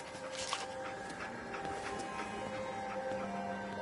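Dogmeat, the dog companion in Fallout 4, gives soft whimpers and panting over a steady game ambience hum with faint tonal music, fairly quiet and close.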